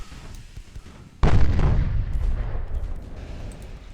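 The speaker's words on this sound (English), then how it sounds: "The 3-inch guns of the Gibraltar are just pew pew pew pew." A deep, heavy boom from a video-game warship's 3-inch naval guns bursts out suddenly and loudly, then rumbles and decays over a few seconds against low battle noise.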